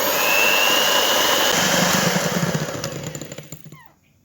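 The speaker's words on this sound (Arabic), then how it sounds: "وبعد كده هنضرب على سرعة عالية لمدة 10 دقايق" An electric mixer whirs at high speed through sponge cake batter of eggs and hot milk, a loud steady drone that fades and stops near the end.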